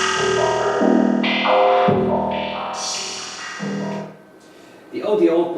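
A synthesizer plays a stepped sequence of sustained tones run through a remodulation effect, each note shifting pitch and timbre in turn, bright and distorted with echoing tails, fairly loud and alone.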